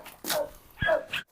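A Cane Corso puppy on a farm gives a couple of short, soft yips and whimpers, close and fairly quiet, with a faint voice nearby.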